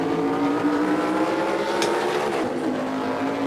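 Race car in a racing game at Circuit Gilles Villeneuve, Montreal, its engine revving loudly and climbing in pitch as it shifts up through the gears, with a brief sharp squeal in the middle.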